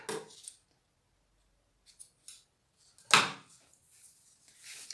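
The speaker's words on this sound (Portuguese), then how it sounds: "O meio, vou fazer um pique de um lado e do outro." Scissors snip notches into a fabric strap for an insulated lunch bag, a few sharp, close cuts spaced apart with quiet pauses between them.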